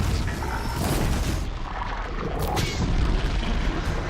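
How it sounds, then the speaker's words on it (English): A burning object explodes in the video game Horizon Zero Dawn, a dense, loud booming rumble with crackling debris that fills the whole stretch, with a sharper burst midway through the heavy game soundscape. "I set it on fire. It's gonna blow."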